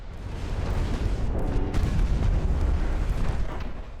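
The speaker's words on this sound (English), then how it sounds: "that's a torp launch" A torpedo launch in the naval game Ultimate Admiral Dreadnoughts, heard as a sustained low rumbling boom with a muffled burst partway through, steady and heavy over about four seconds without speech.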